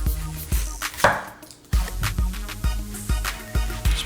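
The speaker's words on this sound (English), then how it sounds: "we're gonna slice up our red onion" A knife slicing through a red onion on a cutting board, a sequence of sharp, close chopping thuds at a slow, even pace, about one every half second, with no one speaking.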